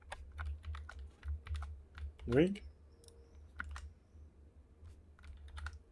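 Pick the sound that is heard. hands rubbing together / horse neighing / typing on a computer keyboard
typing on a computer keyboard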